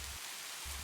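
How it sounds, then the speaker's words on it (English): Gentle rain falls steadily on a morning among cherry blossoms, a soft continuous hiss of drops with a faint low rumble coming and going. "the constant gentle percussion of rain"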